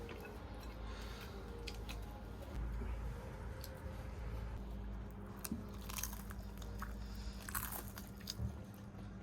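A boy bites and chews crispy fried squid, producing a run of close crunches and biting snaps at irregular intervals over a steady low background hum.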